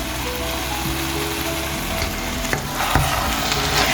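Grated carrot halwa roasting in a pan on high flame, a steady loud sizzle with scraping stirs and a few sharp clinks near the end, with no talking.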